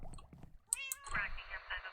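A cat in the Minecraft video game meows: a short, clear, rising-and-falling mew rendered as game audio, with a person talking around it.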